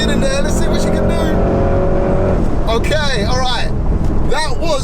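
A Porsche Cayenne Turbo GT accelerating hard with wheel spin, a loud, close engine roar climbing through rising gear pulls, with someone talking excitedly over it throughout.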